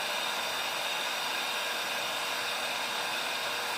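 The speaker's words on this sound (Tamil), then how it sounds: "இந்த ஹேர் ட்ரையரை வச்சு நம்ம இந்த ட்ரீட்மெண்ட் கொடுக்க வேண்டும்." A hair dryer blows hot air steadily for frozen shoulder heat treatment, a continuous loud broadband whoosh with no talk.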